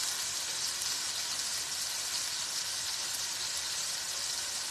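Hamburger steak fries in a pan with a steady, even sizzle and crackle, moderately close and unbroken, with no voices over it.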